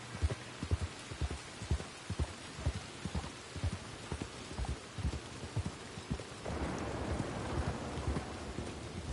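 Steady rain in the video game Red Dead Redemption 2, a dense hiss with hoof-like clip-clop thuds in the first part, then a louder wash of rain or a low thunder rumble swelling for the final seconds, with no talk.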